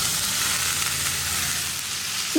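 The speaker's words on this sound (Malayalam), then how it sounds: "ഇനി നമുക്കിതിലേക്ക് നമ്മൾ വേവിച്ച് വെച്ചിരിക്കുന്ന വെജിറ്റബിൾസ് ചേർത്ത് കൊടുക്കാം." Cooked carrot and long bean pieces go into a hot pan for a Kerala mezhukkupuratti and fry with a continuous close sizzle as they are stirred, with no talking.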